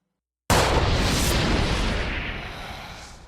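A single heavy video-game gunshot booms out suddenly after a brief silence, then a long rumbling decay fades over the next few seconds.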